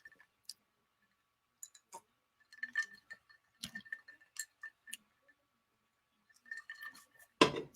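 Ice cubes clinking against a drinking glass in short, scattered bursts of light chinks, with a louder clatter at the very end, close and fairly quiet, no talking.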